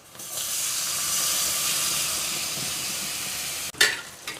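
Onions and tomatoes sauté in a pan for a Chettinad crab gravy, giving a steady, close, bright sizzle and hiss that runs almost unbroken, then a sharp clatter and brief louder burst of frying near the end.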